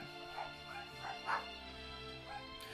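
A dog barks and yips a few times in the background, faint and intermittent over steady Fire Emblem Heroes game music.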